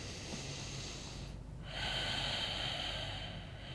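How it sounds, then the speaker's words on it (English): A slow, deep breath is drawn in through the nose during a yoga session, a soft airy rush that swells and then settles over a quiet background. "Take a breath in."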